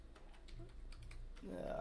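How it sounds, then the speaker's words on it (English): Keys clatter on a new computer keyboard in a run of quick, light, uneven taps, fairly close, over a low background hum, with a louder tonal noise swelling near the end. "I got a new keyboard."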